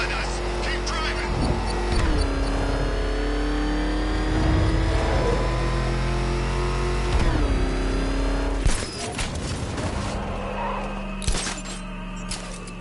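A car driving hard in Batman: Arkham Knight through a burning Gotham, engine drone rising and falling with gear changes, followed by crashing, shattering impacts, with voices talking over it.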